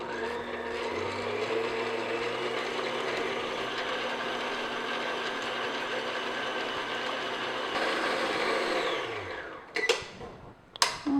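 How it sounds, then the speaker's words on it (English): An electric mixer on medium-high speed beats butter and sugar for vanilla cupcakes, giving a steady, dense mechanical whir for about nine seconds before it winds down. A few clacks follow. "we're going to mix this until it's light and fluffy on medium, high speed"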